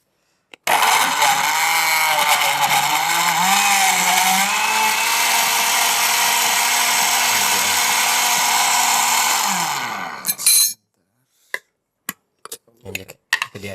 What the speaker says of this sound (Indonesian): Kita langsung blender ya.